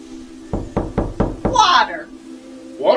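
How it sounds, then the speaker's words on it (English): Five quick knocks by hand land in an even rhythm, sharp and close, followed by a voice speaking briefly and another short voice at the end. "Now knock with your hand."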